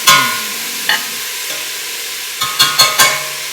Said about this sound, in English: Stir it all around.